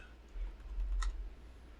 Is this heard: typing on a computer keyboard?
yes